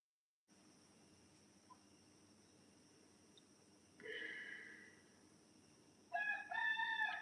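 A rooster crows twice outdoors, the first call moderately loud and the second louder and closer near the end, over a steady background hum with faint insect-like chirps.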